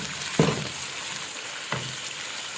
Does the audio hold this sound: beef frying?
yes